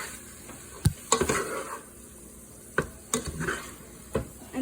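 Knife chopping and a pan of mushroom chili being stirred and flipped, with a few sharp knocks and scrapes spaced irregularly over a low sizzle, close up with no talking.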